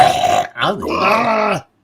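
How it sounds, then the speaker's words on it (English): A man lets out a loud, drawn-out belch with a rough, croaking gurgle, breaking in the middle before a second long throaty burp, close and alone. "You're burping."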